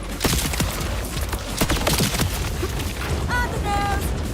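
Gunfire and explosions in Borderlands 4 on PS5: dense, loud bursts of shots and booming blasts mixed with chaotic battle noise, and a few brief electronic tones near the end.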